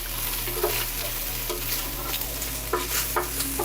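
Green beans tossed with minced garlic get stirred in an air fryer basket, giving a few soft scraping and rustling strokes over a steady low hum, close and moderately loud, with no talking.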